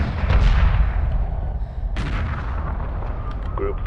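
A Homeworld Remastered strike group firing at an enemy carrier in a space battle, a loud dense roar of continuous weapon fire and booming blasts with a sharp new burst partway through.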